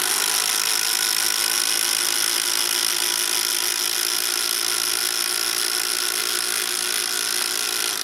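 Two Makita 12V impact drivers, one brushed and one brushless, run together in a continuous high-pitched whine with a dense mechanical buzz that holds steady and loud for the whole stretch, no talking.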